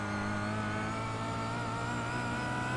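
A touring race car in a sim racing game at Silverstone runs at full throttle, its engine holding a steady, loud, buzzing drone throughout.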